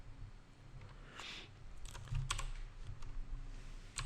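Computer keyboard typing during Photoshop work, a steady run of light key clicks with a few sharper taps, close and fairly quiet, no voices.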